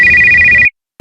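A single electronic telephone ring tone, a steady bright beep lasting about two-thirds of a second before cutting off, loud and close, heard while calling friends.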